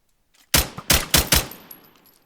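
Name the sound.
gunshots at Herobrine, from a Minecraft video game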